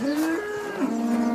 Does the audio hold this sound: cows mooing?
yes